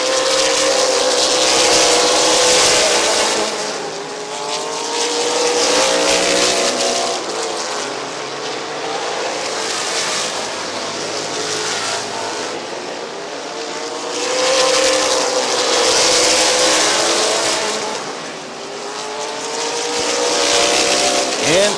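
Race cars roar continuously around Midvale Speedway, loud engines swelling and fading as the pack passes, with a faint announcer's voice underneath.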